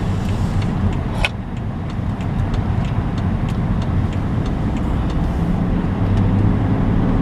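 A car driven gently along a road, its engine and tyre rumble steady and close throughout, with a brief sharp knock near the start and no talking.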